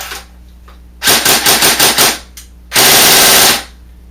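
A WE M4A1 Katana airsoft AEG with a PTW-type cylinder fires loudly up close: a rapid burst of about eight distinct shots, a brief pause, then a longer continuous stream of fire.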